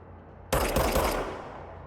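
A burst of gunfire from a handgun in the Control video game, a sharp loud onset followed by a few rapid close shots that ring out and fade over about a second.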